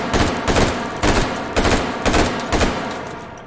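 Rapid gunfire in the virtual reality shooter H3VR as a full magazine is emptied, about six loud, evenly spaced bursts of shots in quick rhythm with no talking.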